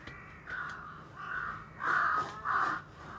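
A crow caws four times in an anime scene, each harsh call rising a little louder than the one before, with short gaps between and no voices.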